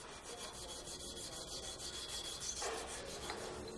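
The bonded joints of a bicycle frame, just out of the bonding oven, are cleaned by hand with steady, continuous rubbing and rasping strokes, close and even throughout.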